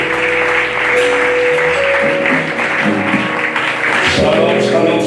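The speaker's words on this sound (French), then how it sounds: "Nous voulons ensemble acclamer pour l'homme de Dieu Jésus-Christ" A church congregation in Port-Gentil applauding and cheering for a preacher, with loud, dense, sustained clapping and crowd noise filling the hall and voices mixed in throughout.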